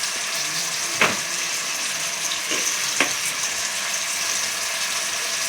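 A chicken curry base sizzles loudly and steadily in a pan as turmeric goes in, with a few sharp clinks of a spoon against the pan and no talking.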